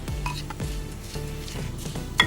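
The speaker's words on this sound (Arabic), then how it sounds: "هبدا اخلط كل ده مع بعض" Garlic, spices and sliced peppers being stirred together in a bowl, with several scraping, clattering strokes of a utensil in an uneven rhythm and a sharper knock near the end.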